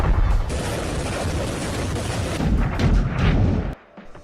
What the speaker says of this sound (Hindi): दनादन आग उगलते ये रूसी सेना का फागोट एंटी टैंक गाइडेड मिसाइल है